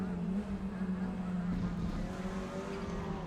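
Cupra race car engine in a sim racing game at Zandvoort, droning steadily at a constant pitch as the car heads into a hairpin, with a commentator talking over it.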